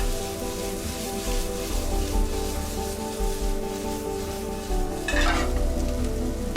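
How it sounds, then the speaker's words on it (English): Vegetables fry in a pan with a steady, close sizzle that swells briefly with a stirring scrape near the end. "Vegetables cooked while the tenderloin is in preparation"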